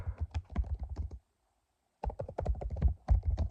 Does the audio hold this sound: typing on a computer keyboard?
yes